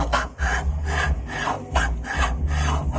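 A soybean grinder runs with its grinding stones set too tight, giving a loud, continuous rough rasping grind that pulses in a steady rhythm of repeated strokes.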